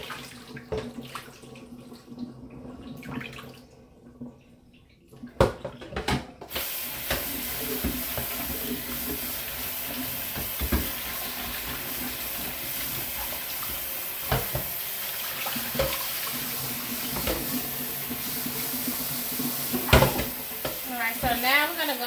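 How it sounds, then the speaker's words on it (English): Hands swish and slosh raw potatoes around in a pot of water to rinse off the starch, a steady splashing churn that runs continuously after a brief quieter start. "wrap my hands around in the pot just to get that starch off and anything else that might be on the potatoes"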